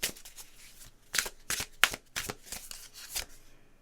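Emotional healing cards being shuffled by hand, a run of crisp riffling bursts and soft slides at close range, with no talking.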